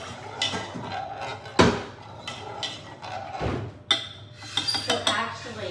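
A cooking pan is grabbed and handled in a home kitchen, with several metallic clanks and clinks spread across the moment, a couple of sharper knocks standing out over quiet room noise.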